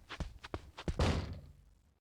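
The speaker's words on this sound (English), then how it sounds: "I run up to the stairs and hit the door open with my shoulder roughly." A door in a video game is shoved open with a shoulder, sounding like a quick run of light footsteps or knocks followed by one heavy thump and a brief, fading rumble, close and alone.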